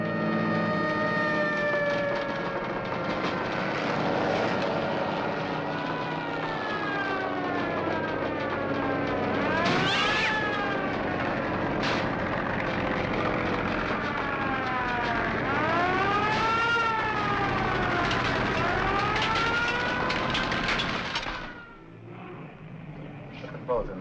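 Fire engine siren from a firehouse just down the street, wailing up and down in repeated sweeping cycles over traffic noise, loud and close, then cutting off near the end.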